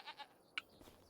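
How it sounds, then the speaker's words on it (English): Goats bleat in the video game Farming Simulator 25, two quick nasal calls and then a sharper one, short and fairly faint over a quiet farm backdrop. "There we got our goats."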